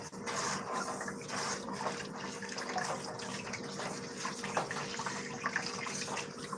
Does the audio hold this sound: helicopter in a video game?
no